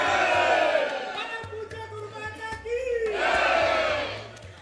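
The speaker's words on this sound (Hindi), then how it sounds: "ये सभी वो भक्त हैं, श्रद्धालु हैं जो आए हुए हैं, उद्घोष लगा रहे हैं" A large crowd of devotees in Kanpur chanting slogans together, loud rising shouts in waves that swell, ease off, then swell again, with a low steady hum underneath.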